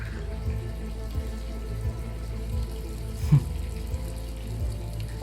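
Tap water runs steadily in a tense indoor scene, a continuous rushing hiss with a low hum under it and small splashes here and there. No one speaks.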